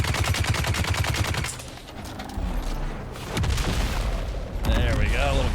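Grenade blast in the Dune: Awakening video game, a loud broadband boom landing amid rapid gunfire bursts, with a second heavy impact shortly after and no talking over it.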